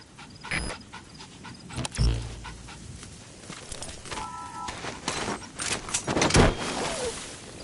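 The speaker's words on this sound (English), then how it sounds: "That wild dog pup. He's a tough little guy." A wild dog pup panting in Metal Gear Solid V, quick soft breaths heard close among scattered clicks and thumps, with a short tonal beep midway.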